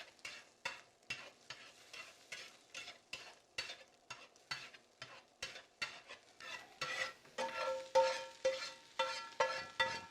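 A spoon stirs food frying in a pan over high heat, scraping steadily in quick rhythmic strokes above a soft sizzle that builds toward the end, close and moderately quiet.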